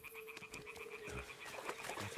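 Toads croak repeatedly in an outdoor scene of the video game Kingdom Come Deliverance 2, with a steady rhythmic calling over a continuous background of insect-like trills and ambient noise, no talking.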